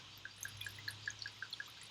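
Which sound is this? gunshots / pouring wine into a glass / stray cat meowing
pouring wine into a glass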